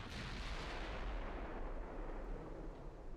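Heavy warship guns boom in the naval battle game Ultimate Admiral Dreadnoughts, a dense, continuous wash of deep rumbling gunfire and explosions at loud, sustained volume with no clear gaps.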